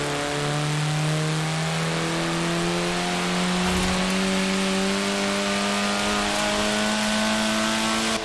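A Lotus Elan Sprint's engine in Forza Horizon 4 drones steadily while driving, its pitch climbing slowly through a long pull with a loud, continuous hum and no talking.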